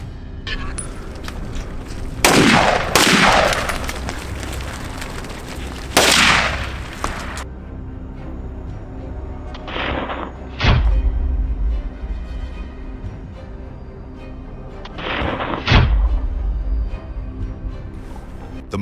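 Gunfire rings out during a wild boar hunt: several loud, sharp shots in scattered bursts, some quick doubles, echoing over a rumbling background with voices talking between them.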